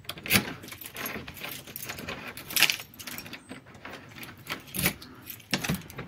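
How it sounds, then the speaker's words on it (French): Someone struggles with a stubborn door, making a series of rattling, jangling and clicking bursts from handling the handle or lock, irregular and close by, with no talking. "Oh cette porte j'en ai marre, j'arrive jamais à l'ouvrir."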